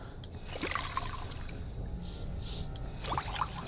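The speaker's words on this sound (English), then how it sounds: "Just need to make some purified water before we go out into the nice big world." Water pours and trickles in a Fallout 4 purification scene, a soft, continuous liquid stream with a few brief splashy bursts, faint and close, with no voices.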